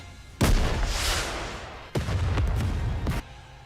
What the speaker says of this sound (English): Vesty's rocket launcher cuts through the horde. What an explosion!